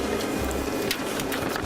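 A home printer printing out directions, a steady mechanical whirring and rattling hum with light intermittent ticks, close and continuous with no talk.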